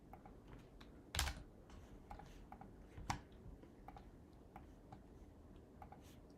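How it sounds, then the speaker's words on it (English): Typing on a Mac computer keyboard, with quiet, irregular key clicks and a couple of sharper, louder strokes standing out, recorded close with no voice. "I can just type here"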